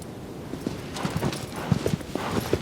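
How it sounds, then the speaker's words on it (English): Hooves of the horse Agro clip-clopping across the ground in the video game Shadow of the Colossus, a steady run of soft, close hoofbeats over a low ambient bed, with a faint whinny possible. "the diversity of sounds created by Agro's hooves"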